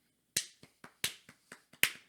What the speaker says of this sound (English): Why are you clapping?